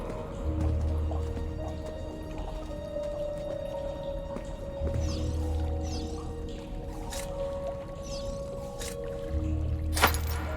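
Water splashes and drips in the video game Assassin's Creed Brotherhood as a character swims, with low rhythmic sloshing strokes repeating about every four seconds over a murky ambient hum.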